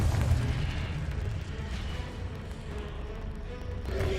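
A Confringo spell blast from a Harry Potter-style video game: a sustained, heavy, rumbling explosive roar with a loud low end that holds steady for several seconds and swells again at the close.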